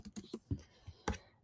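Fast, uneven clicks of keys being struck on a computer keyboard, close and faint, with no voices.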